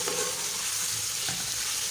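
Potatoes frying in oil in an open pot for aloo methi sabzi over medium heat, a spoon stirring them with a steady crackling sizzle and soft scraping, close and continuous.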